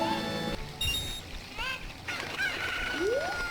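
A chicken in the Ocarina of Time video game clucks and squawks over steady game music, with a rising synthetic tone near the end and no voices.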